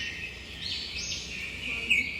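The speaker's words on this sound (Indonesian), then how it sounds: "burung-burung berkicau merdu dari dalam hutan" Morning birdsong drifts from a forest near a village, high chirps and warbling calls carrying steadily at moderate volume against a soft background hiss.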